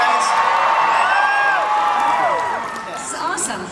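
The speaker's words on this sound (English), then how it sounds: "Oh wow, a big crowd today." A big crowd at FanX, the fan convention in Salt Lake City, cheers in a loud, dense roar close by, with overlapping whoops and shouts that ease slightly partway through before swelling again.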